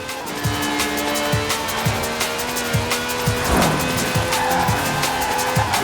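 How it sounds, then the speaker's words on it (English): A 750-horsepower V12 taxi in Forza Horizon 4 roars steadily at high revs, with rhythmic engine pulses and a brief tire skid midway, loud and continuous without talk. "This is a V12 with over 750 horsepower"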